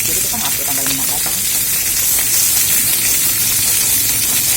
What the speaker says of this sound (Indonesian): Langsung minyaknya langsung pakai buat menggoreng ya jadinya